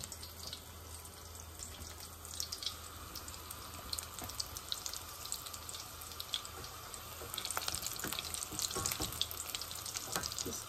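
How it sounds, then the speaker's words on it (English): Falafel patties frying in hot oil while being turned, a dense steady sizzle and crackle that grows slightly louder toward the end, with no voices. "Let the oil get coated, everywhere, so they get fried"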